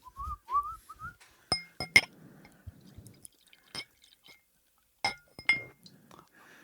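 Ice cubes clinking against a glass, a few sharp bright taps scattered across a quiet moment, with a short whistle near the start.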